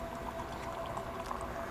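Two-part liquid compound poured into a container, a steady soft fizzing, trickling wash of liquid that stays even and moderately quiet throughout.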